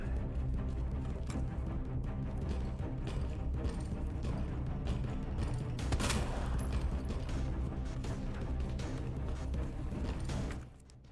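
Rapid, dense bursts of video game gunfire crackle continuously for about ten seconds against a busy background, then cut off abruptly near the end.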